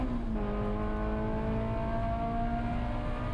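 Race car at Road America coming back on throttle after a corner kink, the engine note climbing steadily in pitch as it accelerates, loud and continuous with no voices.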